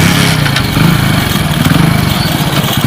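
A motorcycle engine running nearby, loud and steady with a throbbing mid-pitched chug throughout, no speech.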